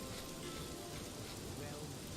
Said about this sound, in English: it's a rainy night